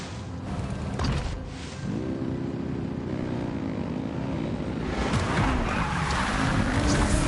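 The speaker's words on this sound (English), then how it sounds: "Rev the engines!" Engines rev in Genshin Impact, a droning propeller-like motor roar that holds steady, dips, then swells louder and brighter toward the end.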